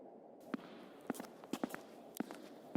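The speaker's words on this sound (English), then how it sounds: "I heard Angela's footsteps approaching and turned to beckon her toward me." Footsteps in the video game Misericorde, a series of sharp, separate steps at an uneven walking pace that stand out over a low ambient hum in a dark room lined with empty shelves.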